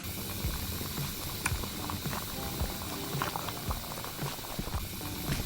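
Hops boil in a brewing vat in a beer manufacture simulator game, giving a constant dense bubbling and rolling roar mixed with faint mechanical ticking, steady throughout with no voices.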